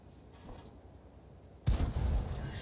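A rapid-fire weapon in a first-person shooter video game opens up suddenly, with loud, dense, booming shots after a quiet stretch of low ambience.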